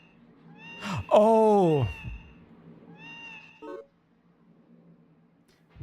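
Cat meows produced by touching walls in the video game Baroque: a loud drawn-out meow followed by a shorter fainter one, with a brief exclamation from a person in between.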